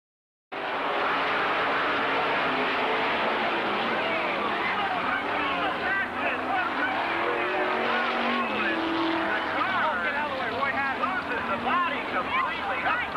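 NASCAR race car spinning on the backstretch after a hard turn, its engine roaring loud and steady with tire scrubbing and skidding texture throughout, broadcast commentary talking over it.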